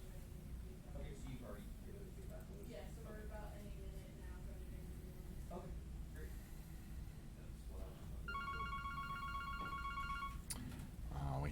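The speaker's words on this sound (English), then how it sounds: "We have new phones, and that's what they sound like now." A new office desk phone rings with a repeating electronic warble near the end, a faint room hum and background chatter underneath.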